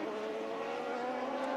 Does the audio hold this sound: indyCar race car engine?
yes